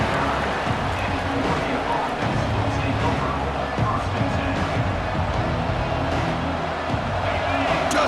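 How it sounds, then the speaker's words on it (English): Home stadium crowd in an NCAA college football video game, a dense continuous roar of cheering fans under steady commentary. "this home crowd is fired up and ready to make a difference today"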